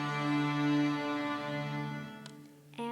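An orchestra's full string section holds the open D string, bright and steady, tapering near the end before a small bump of sound.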